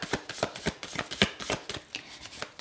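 A tarot card deck being shuffled, producing a run of quick, crisp riffling bursts in an irregular rhythm, close and moderately loud with no talking.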